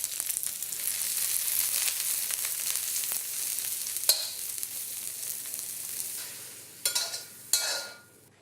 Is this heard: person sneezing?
no